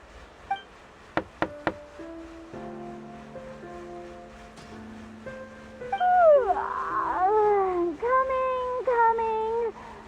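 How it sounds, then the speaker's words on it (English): Three sharp knocks on a door ring out close by, quickly followed by a sustained musical tone and swelling animal-like cries and chimes, in a game setting. "I'll go knock on the door"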